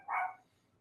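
A pet dog, a female, gives one short, sharp bark indoors at a moderate distance, standing alone against a quiet room.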